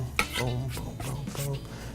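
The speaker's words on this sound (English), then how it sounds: "I'm just gonna julienne a little cabbage here." A kitchen knife slices cabbage into julienne strips on a cutting board, a quick run of soft scraping and chopping strokes up close, with faint voice-like murmurs mixed in.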